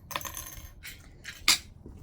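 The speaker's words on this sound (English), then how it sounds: "So we can take off those clips now." Sewing clips being taken off a fabric bag, a few quick light clicks and small metallic snaps, close and separate, one slightly sharper than the rest.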